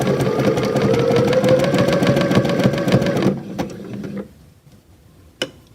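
A domestic sewing machine stitches steadily with a fast, even mechanical chatter for about three seconds, then stops, followed by a few faint clicks and a single sharp tap.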